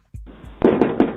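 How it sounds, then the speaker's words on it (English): Someone pounds on a door, heard through a Ring doorbell camera recording: a muffled thump, then three hard, booming knocks in quick succession, loud and slightly distorted. "Loud knock."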